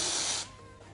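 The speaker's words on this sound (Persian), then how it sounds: "بازم اسپری، اینم از برند ریسانا، خیلی خوشبوه." A Risana-brand scented spray bottle gives one loud, close hissing spray burst lasting under half a second, then fades into quiet room tone.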